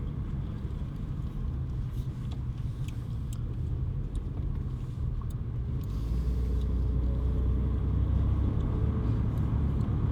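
A steady road rumble comes from inside an RS car with over 220 horsepower cruising along, with constant tire and engine drone and small clicks and bumps throughout.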